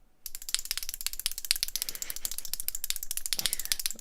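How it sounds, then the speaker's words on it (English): Feet climbing quickly down a long ladder of 64 rungs, each step striking a rung: a fast, close run of sharp clicking, clattering taps that speeds along almost like a ratchet. "Did you hear each foot hit the next rung?"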